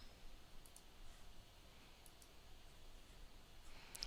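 A computer mouse clicks a few times, quietly and close, in sharp isolated ticks with pauses between them and no talking.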